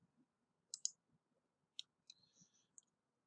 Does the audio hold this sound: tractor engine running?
no